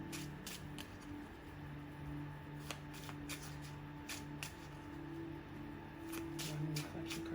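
Tarot oracle cards shuffled in repeated quick riffling bursts, close and crisp, with a steady low hum underneath and no talking.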